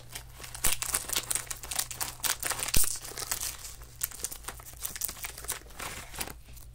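A Japanese Kit Kat candy wrapper is cut and handled up close, giving continuous crisp crinkling and rustling of foil-plastic packaging with a few sharper snips and crackles, loud and intimate in an ASMR style.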